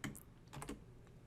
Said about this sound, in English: we will type in the words and, or, and not into the search bar between our terms